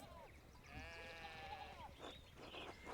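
Sheep bleat in a farmyard with a fallen fence rail in the video game Pentiment, giving a couple of drawn-out, wavering calls at moderate distance over quiet background ambience.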